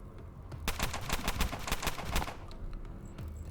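Rapid rifle gunfire from the video game Underrail, a dense burst of sharp repeated shots lasting about a second and a half, loud and close, then trailing off into quieter game sounds.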